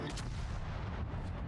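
Warship cannon fire in World of Warships, a continuous loud rumbling boom of artillery that fills the whole stretch with dense low-end energy and no pause.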